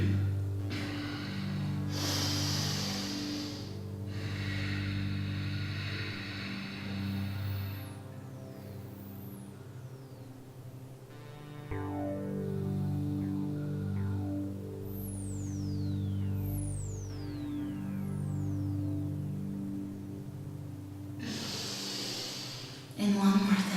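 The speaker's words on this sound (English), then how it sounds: "Take an extra breath in between." Deep rhythmic yoga breaths during a vinyasa practice, several long inhales and exhales with soft hissing air, close and steady, with low background music throughout.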